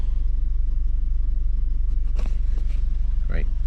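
Inside an MK5 VW Golf Twincharger with a faulty high-pressure fuel pump, the engine gives a loud, steady low drone while the car drives, with a few brief higher-pitched noises over it.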